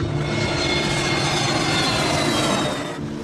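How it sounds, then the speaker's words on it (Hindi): An airplane roars down the runway at Mumbai airport and takes off, a loud steady broadband engine rush holding for several seconds before easing slightly at the end. "मुंबई के हवाई अड्डे से विमान रनवे पर दौड़ता हुआ उड़ान भरता"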